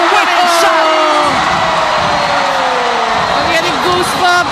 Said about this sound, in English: And the crowd roars inside the Rizal Memorial Coliseum